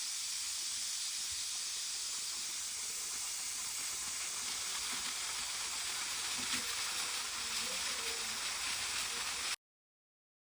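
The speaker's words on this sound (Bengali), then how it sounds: "এখন আমি কুকারে চড়িয়ে দিচ্ছি গোস্তটা সেদ্ধ হওয়ার জন্য" A pressure cooker holding marinated beef on the boil lets out a loud, continuous hiss of steam that holds steady for about nine seconds, then cuts to silence.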